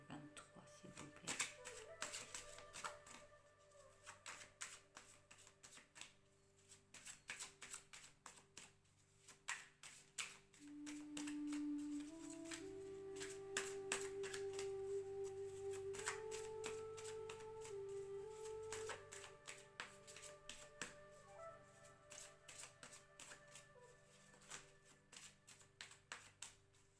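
Tarot cards being shuffled and handled for a Capricorn reading, with repeated soft riffling and tapping bursts through the stretch, fairly quiet, over a steady tonal music bed and occasional speech.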